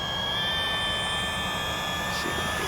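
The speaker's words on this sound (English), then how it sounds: "This is my first time flying an FPV drone," A DJI Avata FPV drone flies close by with a steady, loud propeller whine, constant through the whole stretch with sharp tonal bands and no talking.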